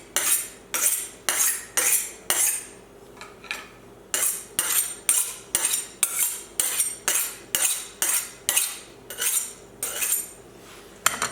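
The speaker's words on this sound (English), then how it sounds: "The first step is to sharpen your knife" A kitchen knife is sharpened with about twenty evenly spaced, rasping metal strokes, each a short scrape in a steady rhythm, close and loud with no talking.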